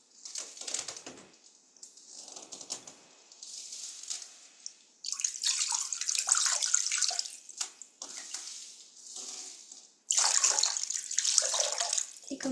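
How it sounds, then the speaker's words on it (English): Water splashes and trickles in a bowl as feet are rinsed during a guided meditation, in uneven bursts of sloshing and dripping, close and fairly loud, with quieter pauses between the bursts and no talking. "to rinse our feet"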